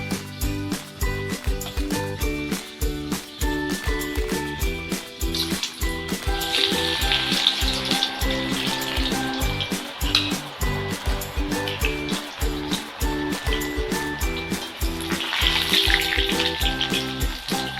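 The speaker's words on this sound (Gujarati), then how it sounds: "હવે આપણે એમાં ચિપ્સ તળી નાખશું" Steady, dense sizzling and crackling of potato chips deep frying in hot oil, continuous and close throughout with a bright hiss rising at times.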